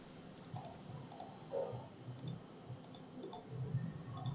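A computer mouse clicks in civil engineering corridor modelling software, a scattering of soft, sharp single clicks spaced irregularly over a faint background hiss.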